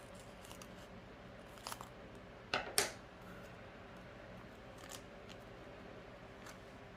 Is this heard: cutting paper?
yes